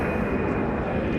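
Airplane passing overhead as a steady, broad roar that fills the whole moment without rising or fading, heard outdoors without anyone speaking.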